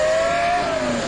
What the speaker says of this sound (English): But here comes the flyby.